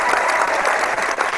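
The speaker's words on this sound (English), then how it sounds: "He gets a round of applause" Brief round of applause from the audience at a pen podcast's live event, a short dense patter of many hands clapping at close range.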